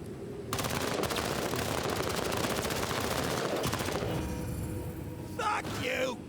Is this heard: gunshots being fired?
yes